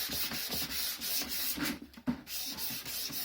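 A sanding block rubs back and forth along the edge of a board game box, a close, loud rhythmic rasp of repeated strokes with a brief pause near the middle.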